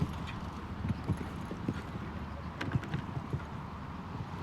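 Horse hooves at the Hickstead show jumping arena thud and clatter in an uneven cadence at mid distance under a constant crowd and arena ambience, with a few sharper knocks.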